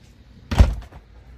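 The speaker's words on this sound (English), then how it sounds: "We'll shut all the doors behind you." A single door shuts with a short, dull thud inside a house, close and fairly loud, with near silence before and after.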